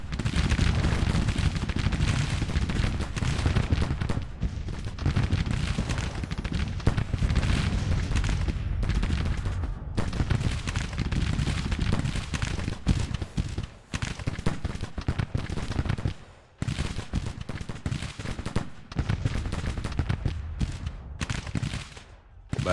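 Battle in Grand Tactician: The Civil War, with dense continuous musket volleys and booming artillery, a rolling, crackling barrage of overlapping shots that barely lets up, one brief lull partway through.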